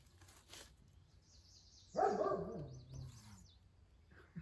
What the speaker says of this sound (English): Mr. Tucker. He's got to bark at everything.